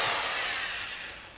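A power drill backing a screw out of a wooden shiplap privacy screen panel, one continuous close, loud whirring burst whose pitch drifts downward as it winds out.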